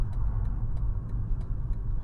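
A car's engine hums low and steady as the driver slows it on a road during a gear-changing lesson, with faint regular ticking over the rumble and no talking.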